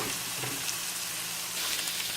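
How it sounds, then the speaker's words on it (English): Ground beef, green bell peppers and mushrooms sautéing in butter, a soft steady sizzle and faint crackle running throughout, close and fairly quiet with no talking. "I've forgotten how good it smells when it's being sauteed"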